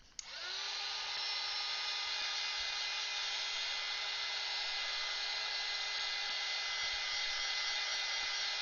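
A hair dryer switches on and blows steadily to dry coloured artwork, with a sharp onset and then a constant, close, high-pitched whine and airy rush held without change.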